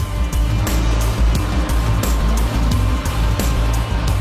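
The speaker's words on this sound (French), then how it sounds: "C'est un des 250 camions que nous approvisionnons journellement." Heavy log truck delivering branch, thinning and coppice wood to a large paper mill in Virton, its loud low diesel engine rumbling steadily up close with rhythmic pulses and no talk.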